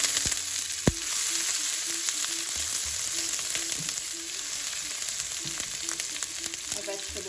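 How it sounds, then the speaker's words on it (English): Onions and chopped peppers fry in hot oil, giving a steady close sizzle with a sharp knock near the start and light stirring taps scattered through it. "I'll let this fry up nice and brown."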